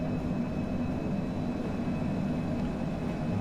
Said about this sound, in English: Let's just watch this airplane so it doesn't crash into the ground.